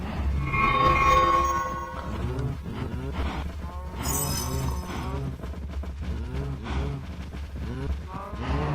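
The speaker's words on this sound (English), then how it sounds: "it wouldn't be an episode of Minecraft without the horrifying sound of farm animals" Minecraft farm animals such as cows moo and groan in a loud, dense overlapping chorus that runs the whole time, with a sharp high squeal partway through.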